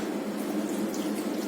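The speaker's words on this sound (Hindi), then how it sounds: "What I'm gonna do is I'm gonna use the water of the नारियल." Coconut water poured from a freshly opened coconut into a bowl, a steady close trickling splash with no pauses, alone with no talk.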